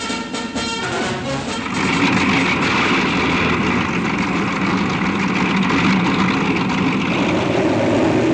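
Bomber aircraft engines running just before takeoff for an operational flight, a loud continuous propeller drone with rumbling engine tone that swells and holds steady, close by, with no voices.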